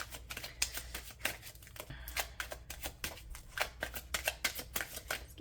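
Tarot cards being handled and shuffled, a steady run of crisp riffling snaps and slaps repeating quickly and close by, with no voice over them.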